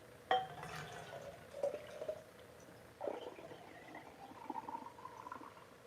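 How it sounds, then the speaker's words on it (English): Garlic juice gets poured back into a container, giving a few close, separate splashes and trickles with drips between them and quiet pauses, and no talking over them. "Let me pour this, some of this back in here, because I want that garlic flavor"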